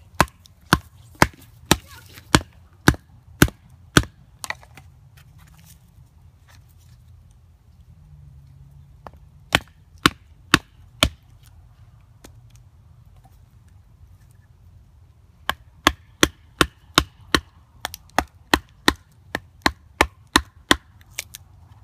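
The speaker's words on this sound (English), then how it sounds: "notching with batoning" Sharp wooden chops from a Diving Sparrow Knife Works Woodsman knife being batoned to notch wood: a quick run of about nine evenly spaced strikes, a few scattered hits, then another steady burst of a dozen, close and crisp.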